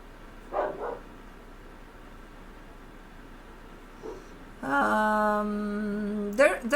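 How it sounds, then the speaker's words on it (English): A dog gives a few short, faint barks early on, followed by a louder harmonic tone and a sharp noise near the end, with no one talking. "Blue, why do we bark? Because we're a dog."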